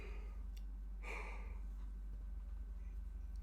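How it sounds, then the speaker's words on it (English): A single breathy yawn from a man, a soft half-second exhale rising above a steady low hum, with quiet background otherwise. "I have no idea why I'm yawning"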